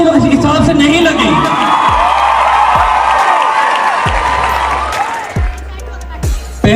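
Audience at a children's stage performance claps and cheers, a loud dense wash of applause with whoops and shouts filling the hall, tapering slightly near the end.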